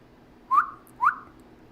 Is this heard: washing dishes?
no